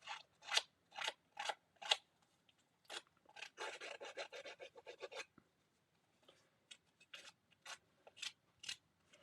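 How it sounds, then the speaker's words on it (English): A paper distresser rasps along card edges in short, sharp scraping strokes, first a run of evenly spaced passes, then a denser burst, a pause and more scattered strokes, close and crisp. "I'm going to bring my distresser, paper distresser, and we're going to distress just that so it looks a little bit different"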